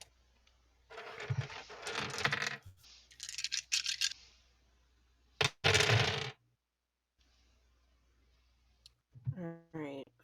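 Dice rolled for a tabletop role-playing game, several bursts of clattering, rattling clicks separated by pauses, close and fairly loud, with a voice briefly speaking at the end.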